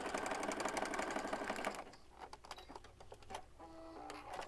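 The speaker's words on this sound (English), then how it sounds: "My sewing machine is giving me fits today." A sewing machine running fast in a steady whirring rattle for about two seconds, then stopping into a few clicks and handling knocks, close and without talk.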